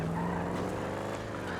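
Car engine roar with tire squeal as a vehicle drives and skids in the GTA 5 video game, loud and steady over a short stretch with no talk.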